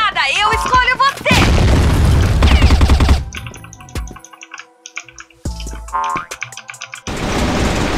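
Loud booming grenade explosions in the video game CrossFire with heavy low rumble, followed by scattered clicks and metallic effects, then another burst of blasts near the end.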